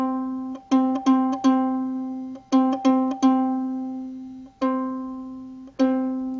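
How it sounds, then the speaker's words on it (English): The third string of a ukulele, the C string, is plucked repeatedly in small groups and then in single notes. Each tone rings out bright and close and decays slowly. No one speaks over it. "Our third string is a C string, so it should sound like this."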